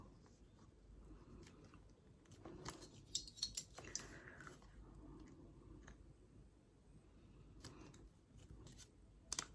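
Scissors snip through damp, glue-coated fabric while making a pocket hole, a series of close, crisp cuts with short pauses and light handling clicks in between.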